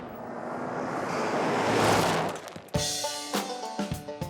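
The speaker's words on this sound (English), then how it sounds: "There's water. Raging whitewater to be exact" Raging whitewater roars in a loud, rushing wash that swells and then gives way to sharp sporadic knocks and thumps, with no voices.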